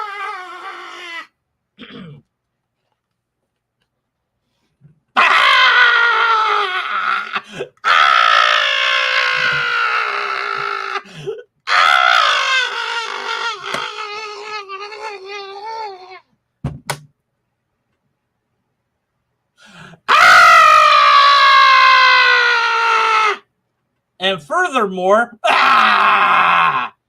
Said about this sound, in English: now that I'm done screaming into the void